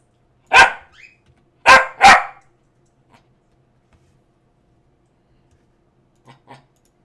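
A dog barks three times, loud and close, one single bark followed by a quick pair, then two faint softer woofs after a quiet gap.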